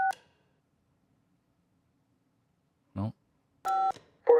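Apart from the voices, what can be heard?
telephone keypad dialing tones in video game Kentucky Route Zero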